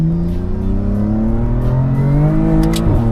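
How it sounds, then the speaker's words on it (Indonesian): A stage 2+ tuned BMW M4 drops a gear, its exhaust rising in a loud, close, raspy blip before settling, finishing with a sharp crackle near the end. "Soalnya ada suara downshift-nya."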